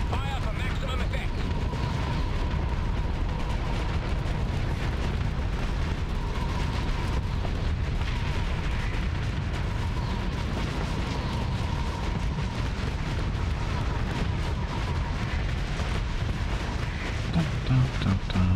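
Weapons fire nonstop in the space combat game Starsector, a dense rumble of booming shots and blasts layered into a loud, steady barrage with a faint tonal hum running through it.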